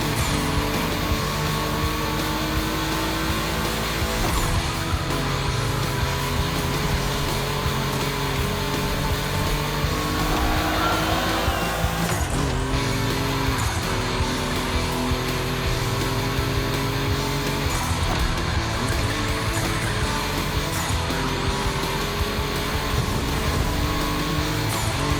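Volkswagen cars race around a track in The Crew Motorfest, their engines droning in a continuous dense roar with shifting pitch and a brief swell near the middle, steady and loud with no voices.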